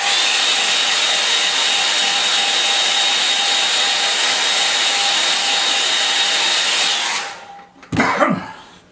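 A hair dryer blowing steadily on a painting to dry wet paint, a loud, close, even roar lasting about seven seconds before cutting off, followed by a brief handling knock.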